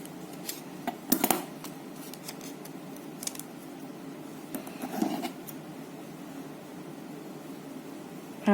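Small scissors snip a piece of material into a teardrop shape, producing a few quiet, close clicks and rustles over a faint steady hiss, with a slight bump at the very end.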